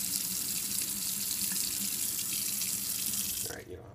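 Tap water runs steadily into a sink while brown rice is rinsed, a continuous close hiss and splash that cuts off sharply near the end, leaving only faint dripping.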